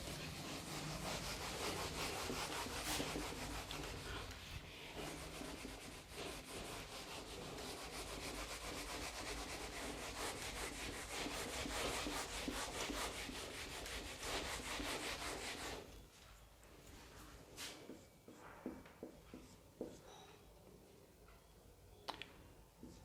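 Steady rubbing on a classroom board during an electrostatics lesson, a continuous scratchy swishing that runs for about fifteen seconds, then gives way to quieter scattered taps and knocks.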